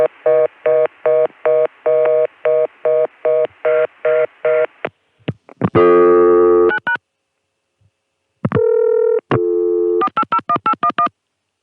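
Touch-tone DTMF dialing of an extension number on a ConTelNet CCSA telephone network, a loud, even run of about a dozen short beeps, then a pause and scattered tones and signals, ending in another quick burst of rapid dialing.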